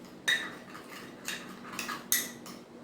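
A spoon stirs a flour face-pack paste in a small bowl, giving soft scrapes and a few irregular light clinks against the bowl, faint and close in a quiet room.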